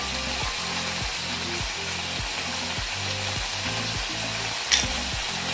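Asafoetida frying in hot oil while red amaranth greens are cooked with dried fish, giving a loud, continuous sizzle with a regular rhythmic scraping pulse throughout and one brief sharp click near the end.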